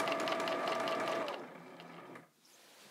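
A Juki Exceed F400 sewing machine doing free motion quilting runs with a steady, fairly quiet mechanical whir for just over a second, then drops to a softer hum that fades near the end.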